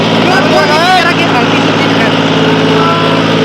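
A John Deere tractor engine runs at full RPM under heavy load, a loud steady droning roar that carries throughout while someone talks over it.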